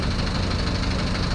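Motorcycle engines idle and rumble while boarding a Lite Ferries vessel from Toledo City to San Carlos City, a steady, loud, low mechanical drone with continuous vibration and no voices.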